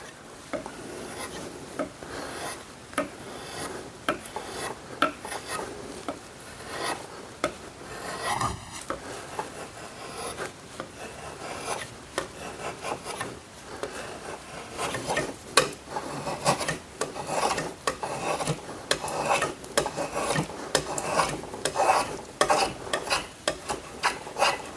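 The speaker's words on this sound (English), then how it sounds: "Only thing with the draw knife is if you're not careful, you can remove way too much material really quick." A draw knife shaves wood while shaping a Tasmanian pattern axe handle, giving repeated rasping strokes in an uneven rhythm, close and fairly loud, with a brief tonal squeak partway through.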